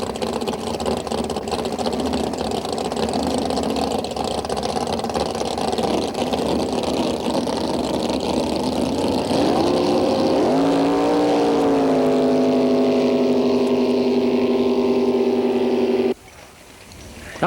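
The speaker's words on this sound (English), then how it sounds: "Coming up next, a pair of competition hydros." Competition hydroplane race boats roar past at close range, a loud sustained engine howl that rises in pitch, settles into a steady high drone, then cuts off abruptly near the end.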